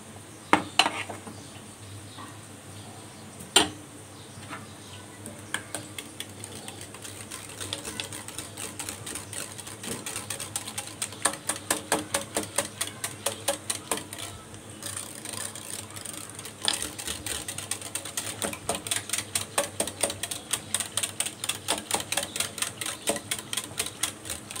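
Gram flour being whisked into yogurt in a bowl, a rapid run of light, regular clicking strokes that grows steadier and continues alone without talk.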